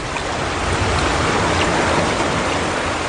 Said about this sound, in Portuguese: a água veio correndo da direção de Edom e cobriu o chão